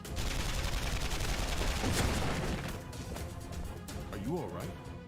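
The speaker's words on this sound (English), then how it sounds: "I have a crossbow assault rifle." A crossbow assault rifle fires in a fighting video game, a dense spatter of rapid shots and impacts with people talking over it.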